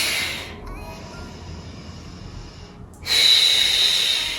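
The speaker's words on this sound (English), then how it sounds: "Always thinking about breathing in through the nose," A person breathes in slowly through the nose and then exhales audibly through the mouth during a stretching routine, close and clear with no talking.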